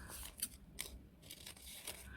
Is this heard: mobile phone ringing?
no